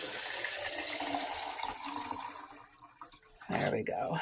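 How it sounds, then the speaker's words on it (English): Cold filtered water pours from a fridge dispenser into a cup, a steady hissing stream that fades and then returns in a short fresh burst. "I want to fill my water. So this is cold water,"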